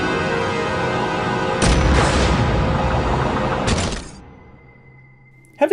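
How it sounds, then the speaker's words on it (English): Rapid chain gun fire during a bank robbery scene in Superman Returns, a loud sustained burst of dense automatic shots with crashing impacts, cutting off abruptly into a quiet hum before a sharp final bang. "Who robs a bank with a chain gun?"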